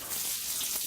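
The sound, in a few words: water hose spraying, washing a horse after training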